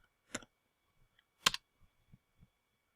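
Fingers tap a few keys on a computer keyboard, two louder clustered clicks followed by several softer scattered taps, close and quiet with no talking.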